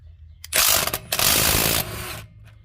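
A socket wrench ratchets as lug nuts are loosened on a 1977 Oldsmobile wheel, a loud, close burst of rapid clicking lasting about two seconds, followed by a softer tail.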